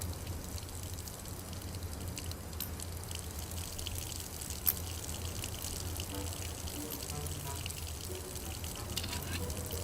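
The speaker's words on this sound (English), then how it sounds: "I filled the bottle with rum pouring from the barrel." Rum pouring from a drilled barrel into a bottle in Foolish Mortals, a steady gushing, splashing liquid stream that runs continuously at an even level.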